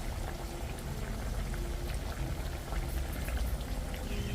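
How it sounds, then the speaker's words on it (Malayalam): Three onion vadas fry in hot oil, giving a constant, dense sizzle and bubbling crackle that stays steady and close throughout. "അങ്ങനെ 3 എണ്ണം ഫ്രൈ ചെയ്യാൻ ഇട്ട് കൊടുത്തിട്ടുണ്ട്."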